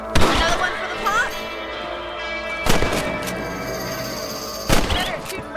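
Three sharp gunshots ring out in Red Dead Redemption while hunting rabbits, spaced about two seconds apart, each a loud crack with a short echoing tail over a low ambient bed.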